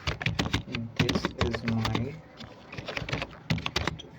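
Fingers type on a computer keyboard into an MS Word document, producing rapid, irregular close-up clicks in bursts with brief pauses, and a voice is faintly heard at times.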